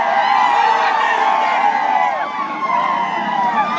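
A dense crowd of protesters fills a street demonstration in Kaithal with a loud, continuous wash of voices and shouting, steady throughout with no single voice standing out.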